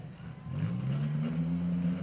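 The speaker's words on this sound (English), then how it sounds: "When he tries to start it, he's blowing flames out of that exhaust." A demolition derby car's engine catches and climbs into a steady rising rev, close and loud, with flames blowing from the exhaust, alone without talk.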